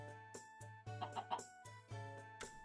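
A chicken clucking in a video game, several short bright clucks in an uneven run over a steady tonal game background hum, close and fairly loud with no talking.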